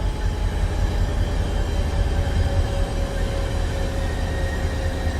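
An American train in Train Sim World 6 rolls steadily at low speed, a dense continuous rumble of wheels and engine with a faint steady whine, loud and close throughout, with no talking.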